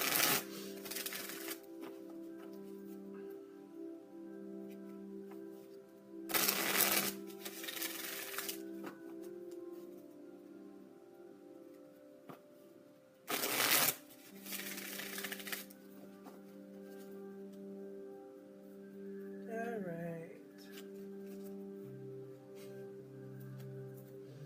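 Playing cards shuffled for a card pull in short riffling bursts, several separated by pauses, over a steady hum of background tones.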